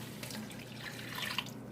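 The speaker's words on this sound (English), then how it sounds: "now what we're going to do is we are going to add a 1/2 cup of water" Half a cup of water pours into bacon jam, giving faint trickling and dripping with a few small splashes near the end over a low steady hum.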